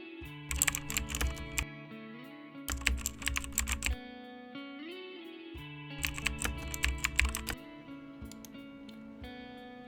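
Fingers tap out bursts of quick keystrokes on a computer keyboard, with pauses between bursts, heard over soft background music.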